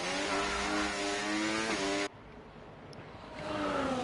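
Racing car engines in a racing video game, loud and continuous with rising revs and harmonic whine, cutting abruptly to a quieter, more distant engine drone that swells back up near the end.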